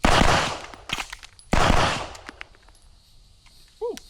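Rapid gunshots crack out at an outdoor shooting range, two dense bursts of sharp reports close by, then scattered single shots and fading echoes, with a brief whistle-like tone near the end.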